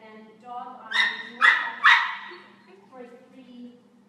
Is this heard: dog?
yes